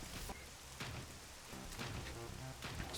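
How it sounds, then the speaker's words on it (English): Steady rain falls in an anime scene, a dense continuous patter with low rumbling tones and a few soft swells beneath it, no voices. "this rainy atmosphere perfectly fits the end of the scene that just occurred"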